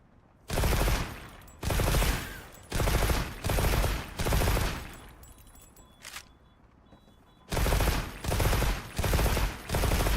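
Rapid bursts of weapon fire in Monster Hunter Wilds, loud and close, coming in about eight roughly one-second volleys with a brief pause in the middle.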